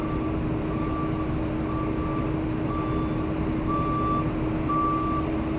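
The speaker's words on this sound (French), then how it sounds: "on va écouter pour voir la purge d'air qui se fait" A truck's air brake system idles with a steady diesel drone while a repeating beep pulses about once a second; no distinct purge hiss stands out, and no one speaks.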